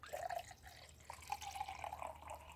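Water poured into a glass cup during a party magic trick, a soft trickling fill heard close up and alone, with brief splashing bursts near the start and again toward the end.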